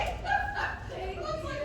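A dog barking and yipping while another dog walks past during a training session, short excited barks under a trainer's talk.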